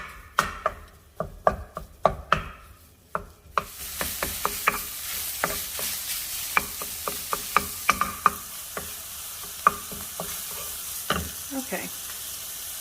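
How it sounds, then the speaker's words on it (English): Italian sausage cooking in a hot pan, a steady sizzle beneath repeated sharp scraping and tapping of a utensil against the pan, close and fairly loud throughout. "I'm gonna start cooking out the Italian sausage"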